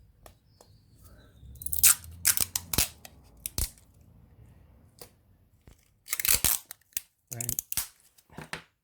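Adhesive tape is pulled and torn off a roll for circuit board repair: sharp ripping bursts, a couple near the start and a longer cluster later, close and loud in a quiet room, with a brief spoken word.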